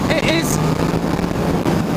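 A Yamaha MT-10 motorcycle engine hums steadily at a cruising pace of about 4,000 to 5,000 rpm, with wind noise as the rider talks over it.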